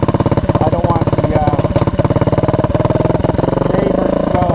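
A Honda ATC200M three-wheeler running with no exhaust system, giving a loud, raw, rapid pulsing engine putter that holds steady and then revs slightly near the end.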